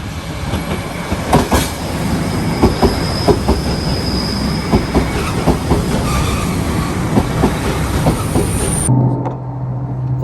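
A train pulling out of Oshamambe bound for Hakodate, loud steady rumble with rhythmic clickety-clack of wheels over rail joints and a thin squeal, ending abruptly in a quieter hum.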